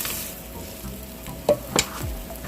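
Bratwurst sausages sizzle in a pan with a soft, steady frying hiss, broken by a couple of sharp clinks and scrapes near the end.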